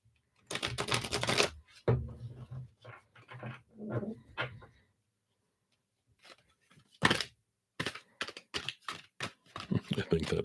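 Tarot cards being shuffled by hand for a love reading: close, crisp bursts of riffling and flicking, one long burst early on and a cluster of quicker bursts near the end, with a voice speaking in the pause between.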